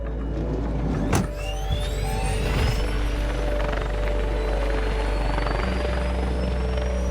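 An air ambulance helicopter lifts off and flies away from a road accident scene, its rotor and turbine a loud, steady roar with a rising engine whine and a sharp thump early on.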